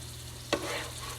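Spices bloom in hot oil for an Indonesian curry chicken, with a brief stirring scrape followed by a soft, low sizzle over a steady kitchen hum.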